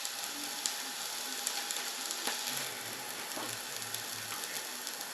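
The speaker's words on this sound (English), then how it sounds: "I'm just going to put in the garlic. I'm just going to let that cook off for about another minute to 2 minutes." Garlic sizzling in a pan for shakshouka, a steady, fairly quiet crackle and hiss with small pops scattered throughout and no talking.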